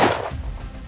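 A single loud rifle shot from a gun fitted with a Dead Air muzzle brake, a sharp crack at the very start followed by a short fading outdoor echo.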